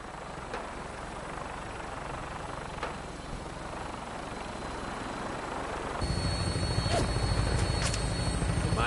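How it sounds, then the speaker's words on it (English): Vertibird aircraft from the game Fallout 4, its rotor engine droning steadily nearby, swelling louder and heavier for the final few seconds with a brighter whine on top. "When we land, Tinker's gonna keep the vertibird spooled for an immediate takeoff."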